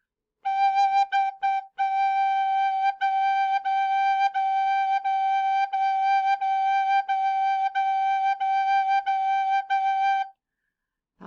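Recorder held on a single G note in a simple rhythm, a run of clean sustained and repeated tones with short gaps, close and clear with nothing else around it.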